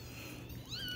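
A bottle-fed kitten lets out one short, thin meow near the end, heard faintly over a quiet room hiss.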